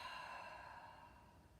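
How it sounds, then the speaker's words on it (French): A soft, breathy exhale through the mouth during a yoga breathing sequence, a steady airy rush that fades gradually over a second and a half, close and fairly quiet with no talking. "Expire par la bouche."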